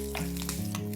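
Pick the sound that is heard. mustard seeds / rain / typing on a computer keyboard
mustard seeds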